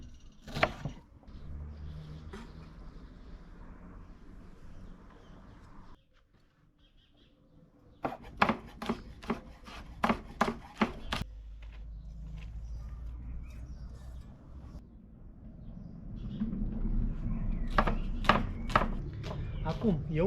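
A knife chops onion and vegetables for a peasant omelette on a board in a quick run of sharp, evenly spaced taps, followed later by another burst, with kitchen background noise between.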